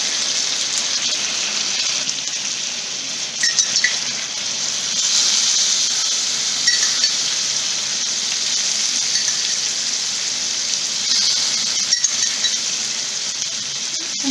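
Mutton chops flambéed with rum and butter on a hot tawa, a loud, continuous hiss and sizzle that stays steady throughout, with small crackles and pops flaring now and then.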